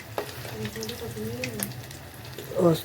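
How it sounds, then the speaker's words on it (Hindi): Cauliflower pieces frying in a pan, a steady sizzle running under a voice speaking, with a brief louder stir or splash near the end. "तो अब हो रही है गोभी फ्राई"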